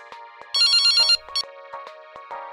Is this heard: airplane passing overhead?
no